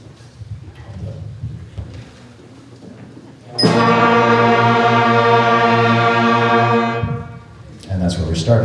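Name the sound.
beginning band students playing first note B flat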